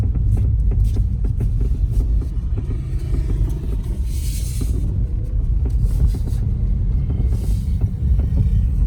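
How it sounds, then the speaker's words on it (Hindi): Road traffic keeps moving along the road in front of M Block in Naya Nazimabad, a loud continuous rumble of passing vehicles with engine throb and no one talking. "ये ट्रैफिक भी ऑलवेज मूव होता है"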